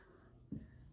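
A teacher writing on a classroom board makes a single short, soft scrape or tap of the marker midway through an otherwise quiet moment.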